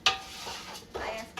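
Spoon scraping and clinking in a pot while chicken biryani cooks, a sharp metallic clack at the start and a second scrape later, close and moderately loud.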